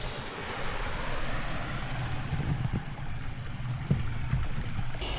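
A boat motors up on open water to collect someone near a homemade houseboat, a steady low engine drone with water wash and a few brief knocks, no voices.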